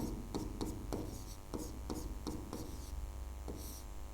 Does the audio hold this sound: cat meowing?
no